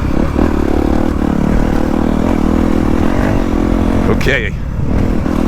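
A Honda CRF250 Works Edition dirt bike pulls hard under load, its engine droning loud and close throughout with a brief dip near the end, while a rider speaks a word over it.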